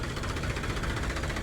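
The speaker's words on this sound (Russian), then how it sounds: "Здесь вот ребятки на тракторе." A tractor engine idles nearby on a busy street in Kolkata, India, giving a steady low rumble with a rapid rhythmic knock, close and fairly loud throughout.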